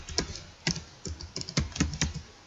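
Quiet, close typing on a computer keyboard while entering data into an Excel spreadsheet, with irregular bursts of key clicks and brief pauses between them.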